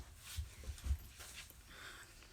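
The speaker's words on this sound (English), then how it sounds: "The dog really wants to get in on this video." A dog whimpering and whining nearby in a home, with a few soft low huffs and thin high whines spaced unevenly over a quiet background.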